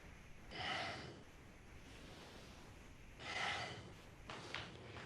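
Two loud breaths during slow yoga hinging at the hips, one early and one later, each a broad airy rush like a deep inhale or exhale, with softer breathing between and no talk.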